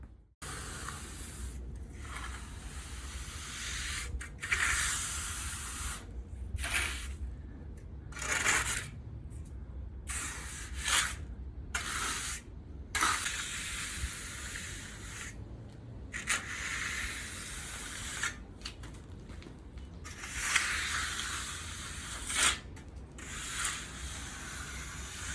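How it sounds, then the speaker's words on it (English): A wet steel trowel smooths a fresh 3–4 mm PolyKote and pebble coating to a gloss finish, giving a continuous close scraping hiss with short strokes and brief pauses, heard alone. "I'm going over this with a final wet trowel just to give it that nice gloss finish"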